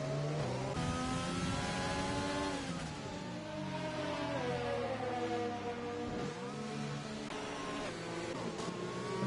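Several race cars circle a track behind the safety car in a racing video game, their engines holding a steady, layered drone with rising and falling pitch and occasional revs, loud and continuous with no talk.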